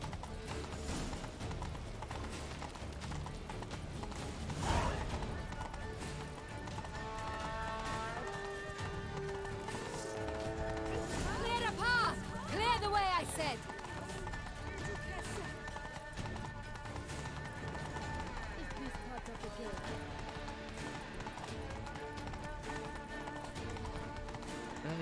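A horse gallops in The Witcher 3: Blood and Wine, with rhythmic clip-clop hoofbeats under spoken dialogue, game music and a whinny.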